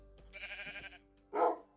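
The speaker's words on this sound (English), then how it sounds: "Here's the sheep." A Minecraft sheep bleats once, short and nasal, after a brief buzzy game sound, with no talking.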